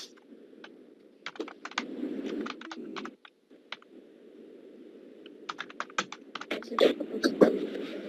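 Quick bursts of clicking keystrokes on a computer keyboard while text is typed, close and crisp, with pauses between runs over a soft background hum.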